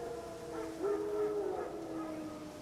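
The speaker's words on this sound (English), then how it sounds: "Wild dogs. Yes. More dangerous than wolves." Wild dogs in The Witcher 3 give a distant wavering howl, faint and drawn out over quiet ambience.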